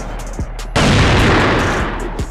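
Heavy sustained gunfire from the CrossFire online shooter bursts in loud and dense after a brief quiet start, a continuous automatic barrage lasting nearly two seconds before easing, with a few faint sounds around it.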